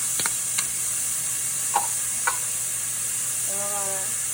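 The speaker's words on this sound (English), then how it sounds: "So now we're about to add our onions to the pan." Onions and garlic sizzle in a hot pan for homemade lasagna, a steady frying hiss with a few sharp pops and spatters near the start.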